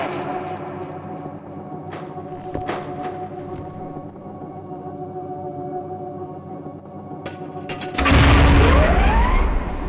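A detonator core from Gunman Chronicles explodes in a deep, loud boom that swells and rumbles for a couple of seconds after a stretch of quieter ambient hum with a few faint clicks.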